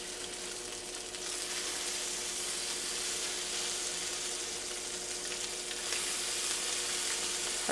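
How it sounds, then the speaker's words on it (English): Bacon frying in a pan, a steady loud crackling sizzle with a hissy spatter throughout, growing slightly stronger after a moment, with no talking. "Before I go and mix it all up, I'm going to go ahead and turn my bacon."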